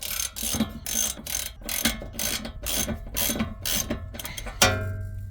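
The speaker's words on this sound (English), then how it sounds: "we've just undone this nut" A hand ratchet clicks in steady bursts of rapid pawl ticks while loosening the nut on a car's ball joint, close and alone with no talk, ending in a brief metallic clank.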